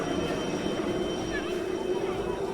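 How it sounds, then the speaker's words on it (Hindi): Rotor and engine drone of a rescue helicopter setting down at an aircraft crash site, a steady loud continuous roar with no letup throughout. "और अब देखिए रेस्क्यू करने के लिए भी एक और हेलीकॉप्टर को वहां पर उतारा जा रहा है।"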